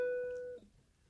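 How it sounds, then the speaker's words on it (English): A single plucked ukulele note, fretted at the second fret of the A string with the third finger, rings clearly and steadily for about half a second before being damped, leaving quiet room tone. "you basically take your third finger and you put it behind on the second fret of the A string"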